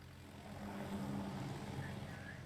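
Aircraft squadrons drone overhead in the World of Warships naval battle game, a steady low propeller-like rumble that swells and holds for a few seconds without any talking.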